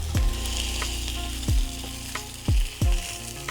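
Salmon patties seasoned with garlic, basil and dill fry in a pan with a steady sizzle, broken by several sharp thuds and scrapes as pieces are turned over, with no talking.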